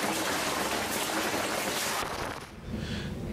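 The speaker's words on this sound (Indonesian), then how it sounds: "hujan yang mengguyur wilayah DKI Jakarta dan sekitarnya juga membuat lapangan Ros Utara, Tebet, Jakarta Selatan terendam banjir" Heavy rain pouring down over flooded Jakarta streets, a dense continuous hiss of downpour that briefly thins before surging back, close and loud with no voices.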